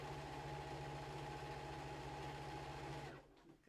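Sewing machine stitching the side of a foldable tote bag, a steady close hum and rapid needle chatter that runs evenly and then stops abruptly near the end, with no talking.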